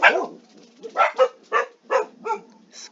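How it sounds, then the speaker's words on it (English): A dog barks in a house several times in an uneven series, loud and close, with some yippy, whining tones between barks, and no talking over it. "Excuse me, my dog is barking."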